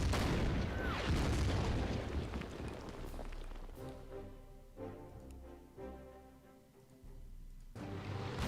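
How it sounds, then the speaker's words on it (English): Artillery fire in the World War II strategy game Order of Battle, set at the Battle of Khalkin Gol: a heavy booming blast with a long rumbling tail, followed by several further muffled impacts and a final boom. "Let's use some arty against these guys."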